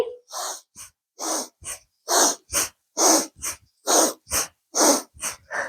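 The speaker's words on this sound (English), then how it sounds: "reach and pull, breathing in and out through the nose" Rapid rhythmic breathing in and out through the nose during a yoga twist, a string of about a dozen short, sharp, close bursts of air in quick succession, with no talk.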